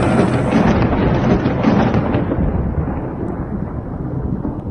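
Deep rumbling thunder from a lightning strike hitting a torch, a loud roll that swells early and then slowly fades into a softer, dull rumble, with no voices.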